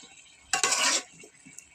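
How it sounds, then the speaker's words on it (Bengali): Papaya and egg cook in a pan on a clay village stove, with a quiet sizzle and one brief loud burst of stirring and scraping against the pan, then soft clinks. "এই যে আমার রান্না হচ্ছে, আজকে আমি পেঁপে দিয়ে ডিম দিয়ে রান্না করব।"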